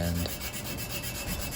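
Coarse-grit sandpaper rubbing over an aluminum propeller blade, a steady rasping scrape heard close up with a louder stroke at the start and no voices.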